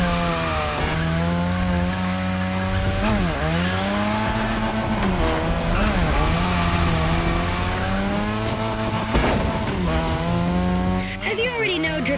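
A car drifts on a drift track in the racing game The Crew Motorfest, its engine revving up and down continuously with tire squeal through repeated slides, loud and close.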